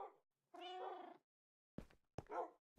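Minecraft cats meowing up close, one drawn-out meow followed after a pause by two shorter, sharper mews, all clear and isolated.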